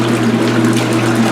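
Water sloshes and splashes steadily inside a 2022 Speed Queen C Series washing machine during its wash cycle, a loud continuous churning with a low motor hum underneath.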